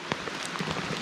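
Heavy rain pours down at a campsite on a backpacking trip, a dense, steady hiss of drops drumming on surfaces with scattered sharper splats, close and continuous.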